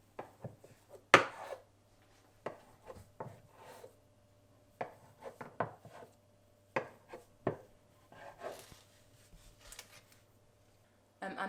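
Knife or scraper cuts through a log of challah dough on a board, giving a series of short, soft chopping taps and scrapes spaced irregularly, fairly quiet and close, with no voices.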